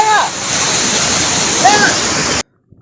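A sudden flood surges over Old Courtallam falls in Tenkasi, its dense, steady roar of rushing water filling the air with brief faint cries, then cutting off abruptly into silence.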